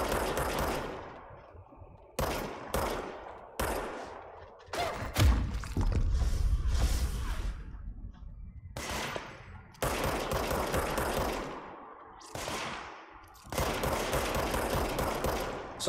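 Bursts of automatic gunfire and heavy thumps from shooting enemies in the video game Control, loud and close, coming in repeated volleys separated by short pauses.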